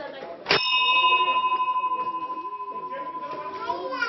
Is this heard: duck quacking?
no